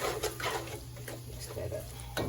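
Ground chicken and spinach lasagna filling being stirred in a pan, giving soft scraping and light clinks of a utensil against cookware, close by and fairly quiet with low background hum.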